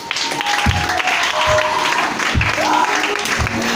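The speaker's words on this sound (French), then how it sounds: "Est-ce que tu peux encore l'acclamer?" Congregation at a church service clapping and cheering, a steady loud wash of applause with scattered shouts lasting throughout.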